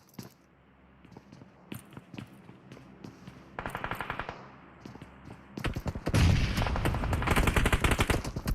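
Bursts of PUBG Mobile gunfire from a competitive scrim match, scattered single shots early on building into dense, loud sustained automatic fire in the second half, with no talk.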